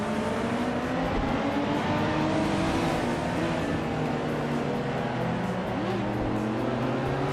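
Race cars in a racing video game roar past one another, several engines revving and shifting pitch as they overtake, a steady loud blend of whining motors with no voices.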